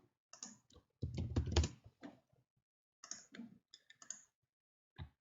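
Clicks and taps from a computer keyboard as a number is typed, a short cluster of keystrokes near the start followed by a few scattered presses, close and fairly quiet.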